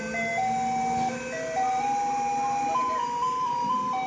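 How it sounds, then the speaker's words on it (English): A Japanese garbage truck drives through a neighborhood playing its distinctive chime melody, a steady electronic tune of sustained notes stepping up and down, moderately loud over faint road noise. "Japanese garbage trucks play distinctive melodies as they drive through neighborhoods"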